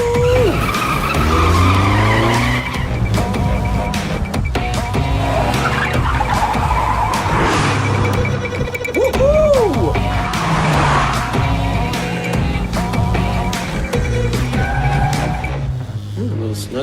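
A car speeds hard through side streets, tires squealing in repeated long skids over a loud, revving engine, with crashes and clatter throughout and voices shouting over the din.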